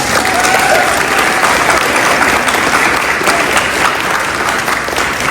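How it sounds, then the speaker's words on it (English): An audience at a school board meeting applauds a cheer team, a dense, steady wash of clapping that stays loud for the whole stretch. "Let's give them a hand."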